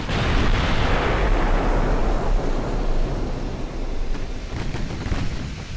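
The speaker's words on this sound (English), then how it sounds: "it's all the guns are opening up. All the secondaries" Naval main guns and secondary batteries fire in a dense, continuous barrage of booming blasts and rumbling bursts in Ultimate Admiral: Dreadnoughts, loud and sustained throughout with no pauses.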